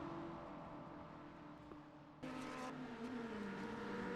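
Race cars in a sim racing game, one a BMW, drone with steady engine tones that rise and fall, then a louder burst joins as another car closes in, with the pitch sliding downward near the end.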